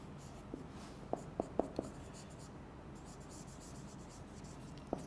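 A lecturer writes synonyms on a board, producing a few faint taps and strokes against a steady room hiss, with soft murmuring in the background.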